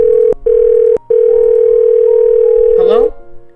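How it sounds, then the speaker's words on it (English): A phone ringing in the visual novel Doki Doki One Last Memory: a steady, loud electronic tone held for about three seconds, broken by two brief gaps, ending in a short rising warble. "tap the green symbol. It begins to ring."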